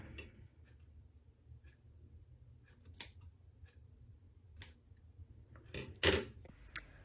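Scissors snip through wavy hair in a quiet home haircut, a few crisp metallic cuts spaced apart, with sharper closer snips near the end.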